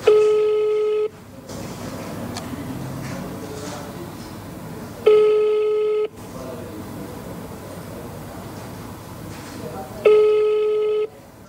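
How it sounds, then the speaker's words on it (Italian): Telephone ringing unanswered on a call to the Sicilian motorway consortium's public office, three long ring tones spaced several seconds apart, each followed by quiet line noise. "l'URP ha 2 numeri di telefono, abbiamo provato su entrambi ma non risponde nessuno"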